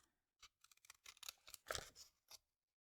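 Scissors fussy cutting paper around a stamped card image: a quick, irregular series of crisp snips and rustles, close and fairly quiet, with no talking.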